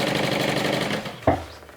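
A sewing machine runs in a steady fast whir while stitching through two pocket pieces for a sewn bag interior, then stops with a short clunk near the end.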